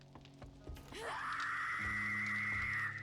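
A woman's scream from the zombie game 7 Days to Die rises into one long, loud, sustained wail that holds steady for about two seconds, with softer game sounds before it.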